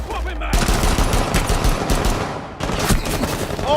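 Rapid automatic gunfire rattles almost continuously in a tactical shooter esports match, loud and dense with a brief dip before the shooting resumes.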